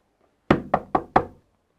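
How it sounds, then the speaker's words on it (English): Four firm knocks on a wooden door come in quick, even succession, loud and close, then silence. "the Samaritan knocked at the door"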